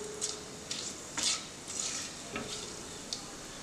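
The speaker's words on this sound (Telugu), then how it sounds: "సో మనకి షాజీరా కొంచెం ఫ్రై అవుతున్నట్టుగా ఉంది కదా." Shahjeera frying in hot oil with cinnamon, cardamom and cloves is stirred, soft sizzling under intermittent scrapes and clinks of a spoon against the pan, close and fairly quiet.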